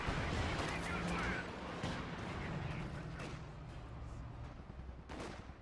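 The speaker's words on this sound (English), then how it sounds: "You got another Katusha Barrage coming on in," Katyusha rocket barrage in Company of Heroes 2, a dense rumbling salvo of rocket launches and explosions that is loudest at the start and stays continuous, with commentary over it.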